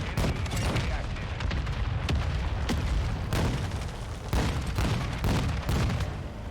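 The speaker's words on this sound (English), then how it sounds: "Hostile mortar strike incoming." Mortar strikes land in a Modern Warfare 2 match as a relentless barrage of booms and sharp blasts, close and loud, stacked over continuous gunfire with game voices faintly underneath.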